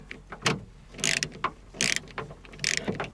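A ratchet tightens a 10mm bolt on a Toyota Century rear window regulator, sounding as several quick bursts of sharp metallic clicking close to the mic, with short pauses between strokes.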